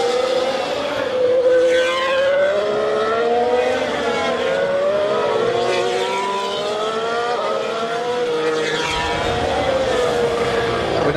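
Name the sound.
Formula 1 race cars at the Bahrain race start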